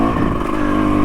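A 2023 KTM 300 XC two-stroke dirt bike engine runs steadily and loudly up close, a dense continuous drone with a busy rattling texture and no breaks.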